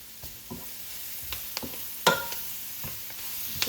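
Garlic and Brussels sprouts sizzle in butter in a pan, with a soft continuous frying hiss broken by a few sharp scraping clicks as a utensil stirs them, close and moderately quiet.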